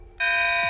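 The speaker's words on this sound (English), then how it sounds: "Here's the gift gong." A streamer's gift gong struck once, ringing out sharply with a bright, shimmering metallic tone that sustains steadily after the hit, loud and close with no talking.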